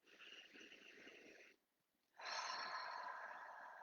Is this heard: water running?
no